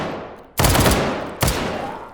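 Two punchy gunshots from a Sosiggun handgun loaded with .50 Action Express rounds in the VR game H3VR, loud and close, spaced just under a second apart with short decaying tails.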